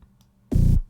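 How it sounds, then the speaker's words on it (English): A very low B flat synth note programmed in Studio One for a house track sounds once as a single loud, deep sustained tone lasting about a quarter second, with faint quiet clicks before it. "A low B flat is going to be like hella low"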